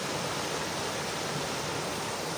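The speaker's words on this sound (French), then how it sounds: "Il y a vraiment de l'eau." A forest stream rushes as a constant, dense hiss of flowing water, close and steady throughout, with no other sounds and no voices.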